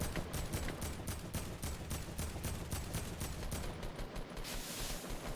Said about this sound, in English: A lot of shots coming out from this NCVA squad.